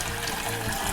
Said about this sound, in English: To turn the tap on, it's anti-clockwise